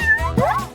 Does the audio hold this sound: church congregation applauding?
no